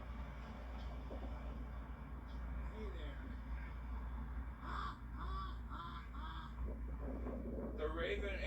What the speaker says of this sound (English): The raven and or crow has flown the coop.